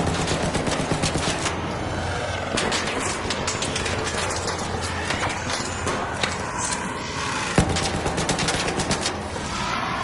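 Rapid bursts of gunfire from a shooter video game, ARC Raiders, crackle nearly continuously across the clip with dense, loud, overlapping shots and no clear pauses.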